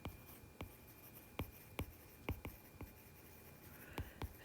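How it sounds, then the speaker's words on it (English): Pen or pencil strokes writing out a chemistry calculation for Ka and pH, a series of sharp, close scratching taps spaced irregularly, with no voices. "I'm going to write that up here."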